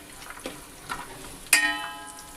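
Sliced onions frying in a pan for chicken biryani: a few sharp clinks and stirs over a soft, steady sizzle, close and alone.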